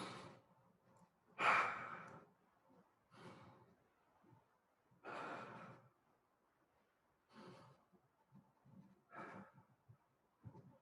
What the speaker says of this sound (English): Why don't you take 3 deep breaths?